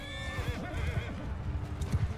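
Horses in the battle game Bannerlord whinny loudly as hooves clatter in quick, uneven clip-clop rhythm, a cavalry charge of mounted horse archers close by with no talk.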